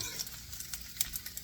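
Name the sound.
bacon frying until crispy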